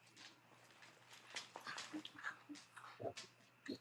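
A pet dog whines and yips in short, soft, high-pitched whimpers beside a garage where a Mustang is being worked on, with a quiet background hum.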